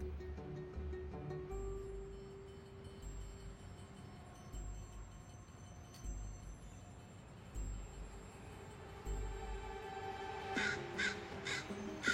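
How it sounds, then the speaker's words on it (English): Near the end a young crow gives a few short, harsh scolding caws, heard over a steady low rumble of background noise. "just the tentative scold of one young crow"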